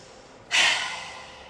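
A single deep qigong breath is let out as a long, airy rush that starts abruptly and fades slowly, close to the microphone, with no talking over it.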